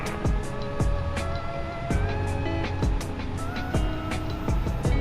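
A fuel truck in Microsoft Flight Simulator drives up at an airport, a steady engine drone with rising and falling revs and repeated rumbling surges, loud and close throughout, with no talk.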